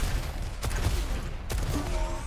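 A rocket fired mid-air in the arena shooter Diabotical bursts out in a couple of sharp explosive blasts over a dense, noisy game mix, loud and close.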